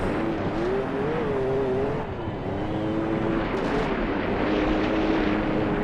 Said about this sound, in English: A little bit of rally driving in a pickup truck.